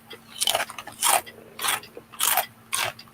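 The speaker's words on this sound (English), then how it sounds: "that's a really crunchy potato chip there, buddy." Someone bites into a crunchy potato chip, giving five sharp, close crackling crunches in an uneven rhythm with short pauses between bites, and no talking.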